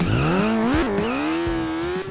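A motorbike engine in the Turbo Dismount video game roars loud and close, its pitch climbing steadily with a brief dip midway before rising again, with no talk over it.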